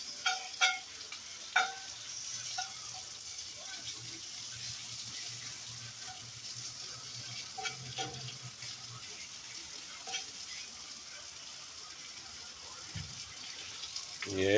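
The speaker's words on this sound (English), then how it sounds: "we come hit it with the hamburger meat." Hamburger meat frying and being stirred in a pan, a steady close sizzle broken by scraping and clattering stirs, with a low hum underneath and brief bits of voice.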